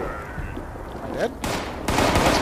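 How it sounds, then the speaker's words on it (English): A grenade goes off in Fallout 76 amid a noisy firefight, with layered bursts of gunfire-like blasts building to a loud, broadband explosion that fills the final second. "That's a grenade."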